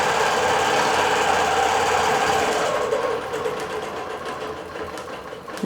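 A digital quilting sewing machine running steadily at speed with a loud, close, continuous whirring stitch, easing slightly lower toward the end.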